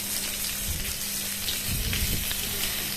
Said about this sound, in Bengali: নেড়ে নেওয়ার পরে আমরা দিয়ে দিচ্ছি তোমার টমেটো